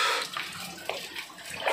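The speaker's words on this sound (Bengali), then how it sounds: "ও ওপর থেকে পাহাড় থেকে জল পড়ছে" Natural water falls from a mountainside above a canyon, a soft, steady splashing rush heard from a moderate distance with no talk over it.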